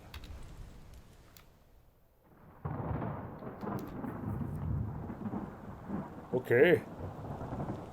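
Storm thunder in Return of the Obra Dinn rolls in after a quiet start, a low, rumbling wash with rain-like noise that swells and holds, with a brief voice speaking over it near the end.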